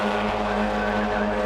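Race cars with 1.6-litre 16-valve engines lap a circuit at a club race meeting, their loud, sustained engine drone holding a steady pitch throughout without any pause.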